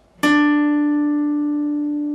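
A single guitar note rings out on the D string, 12th fret, from a song's intro: one sharp pluck after a brief silence, then a clean sustained tone slowly decaying, alone and close.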